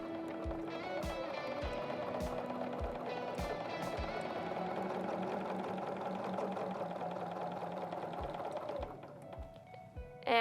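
A Bernina B 770 QE Plus sewing machine runs steadily while stitching quilt squares, a fast continuous mechanical whir with regular needle clicks that lasts about nine seconds before slowing and stopping near the end.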